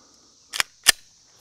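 Two sharp Glock pistol shots firing light 50 grain bullets, the loud reports about a third of a second apart with a steady high background whine and no talk.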